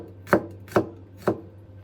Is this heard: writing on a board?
no